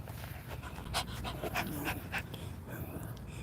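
A dog pants steadily and quickly up close, with soft rhythmic breaths over a low, noisy background.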